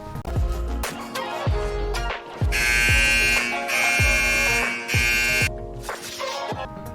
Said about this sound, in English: this game blares an alarm in your face when you try to leave